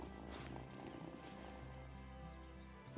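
A cat in the video game Wylde Flowers purrs softly and steadily while getting head scratches, a faint continuous rumble under a quiet background of game music.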